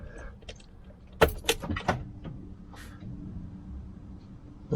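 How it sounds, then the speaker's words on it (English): Keys jangle and click in the ignition of a five-year-old motorhome, a few sharp metallic rattles close up followed by a faint electrical hum as the ignition switches on. "So let's switch the ignition on."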